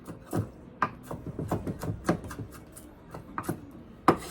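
Food being chopped with a knife on a small chopping board while cooking salmon croquettes: a dozen or so crisp, close knocks in an irregular rhythm, with no talking.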